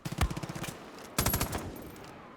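Rapid bursts of automatic gunfire in Far Cry 5, one volley at the start and a second, louder one a second later, each fading into echo with no talk.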